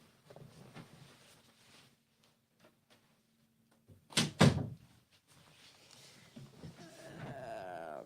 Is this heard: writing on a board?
no